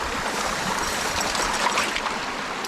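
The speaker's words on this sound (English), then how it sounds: "Oh, there we are, there's a stream here." A small mountain stream on Errigal in County Donegal rushes and babbles steadily close by, a continuous watery hiss with no voices.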